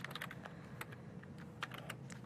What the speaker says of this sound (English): Typing in Helen, and then I'm going to type in nice format.